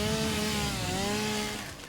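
Yellow chainsaw in the video game Satisfactory, a steady buzzing motor drone with a slightly wavering pitch, running continuously and fairly loud before easing off at the end.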